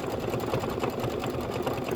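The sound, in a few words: sewing machine doing decorative outline stitching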